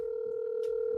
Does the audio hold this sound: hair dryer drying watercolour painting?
no